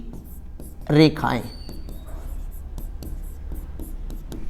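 A pen scratches across paper during a Hindi maths lesson, with a short burst of speech and light scratching strokes continuing under steady room noise.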